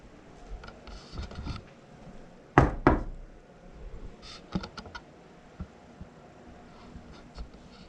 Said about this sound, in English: I knocked.